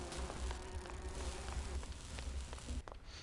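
Bees drone continuously in a Grim Fandango game scene, a close buzzing hum that runs steadily with brief clicks near the end and no voices.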